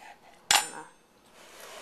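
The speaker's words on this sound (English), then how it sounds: "Just slice it in half." A knife cuts a hard-boiled egg in half lengthwise, a single sharp clack of blade against a surface followed by a brief scraping rustle, close and alone.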